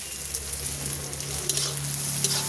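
Onions frying in oil in a pan, a steady close sizzle with faint crackles and no talk over it.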